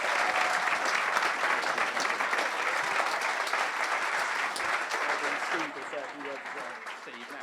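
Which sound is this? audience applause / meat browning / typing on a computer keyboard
audience applause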